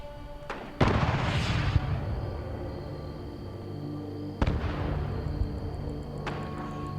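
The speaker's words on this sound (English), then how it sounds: "You can see he's being hit with rockets" Rockets striking an enemy fighting mole miners in the video game Fallout 76, with two loud booming impacts several seconds apart, each trailing into a rumbling decay over a steady droning background.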